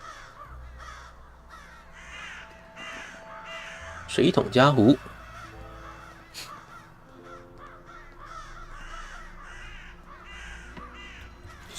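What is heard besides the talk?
crows cawing in the video game Saint Kotar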